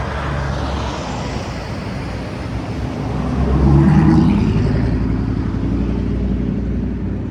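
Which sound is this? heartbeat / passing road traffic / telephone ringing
passing road traffic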